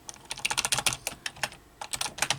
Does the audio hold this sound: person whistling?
no